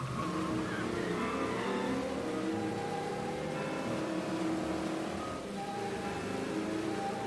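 A car engine in the Mafia video game revs and accelerates hard during a chase down a city street, pitch sweeping up and down through gear changes, loud and continuous with a brief dip near the end.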